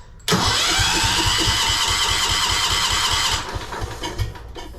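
A Wheel Horse tractor engine with its throttle slightly open and choke set catches and starts, then runs loud and steady with a fast mechanical chatter before easing down near the end.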